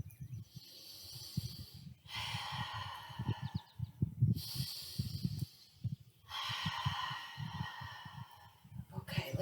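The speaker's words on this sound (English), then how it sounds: "Continue to breathe" Slow, loud breaths during a chair yoga session: three long airy inhale-exhale swells of roughly two seconds each, separated by short pauses, over a steady low hum and a voice in the background.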